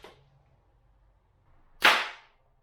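A single sharp airsoft MSR rifle shot cracks out close and loud, a bright burst that decays over about half a second, preceded by a faint click and near silence.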